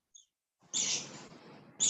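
Pet birds chirping: a faint brief peep, then a sustained bright chirping call, followed by another sharp chirp at the end, close and clear.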